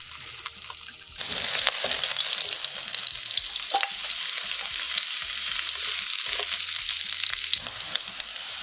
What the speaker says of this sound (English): saute shallots and garlic until fragrant